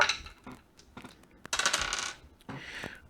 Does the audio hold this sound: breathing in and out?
no